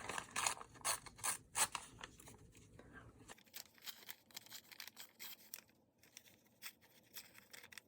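An aged white border is torn by hand from a very old book page, giving repeated short ripping and rustling bursts at close range, with brief pauses and light handling noise between them.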